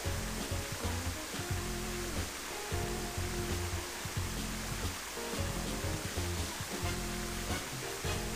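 Shower water in the sewers of the game Sonic Adventure, a steady dense hiss of falling water over a low looping rumble that continues without a break.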